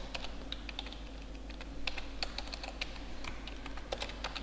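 Rapid, uneven clicks of typing on a computer keyboard, close and fairly quiet, with keystrokes clustering into short bursts over a low steady background hum.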